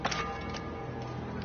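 A bell tolls in Assassin's Creed 4, soft repeated ringing strikes with a faint ticking pulse, set against a dense, steady game background with no talking.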